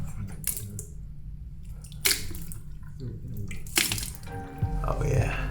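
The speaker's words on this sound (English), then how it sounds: "Just get some milk, splash it along." Splashes of milk thrown onto a face, several wet bursts spaced unevenly over a few seconds, close and moderately loud with dripping in between.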